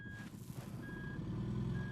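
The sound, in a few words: RV reversing beeps while backing up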